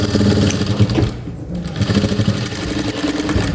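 A sewing machine stitches a baby cap in loud, rapid mechanical bursts, pausing briefly once before whirring on close by.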